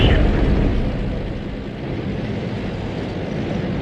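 A tank gun blasts in the World of Tanks game, opening with a loud, heavy boom that settles into a low, steady battlefield rumble.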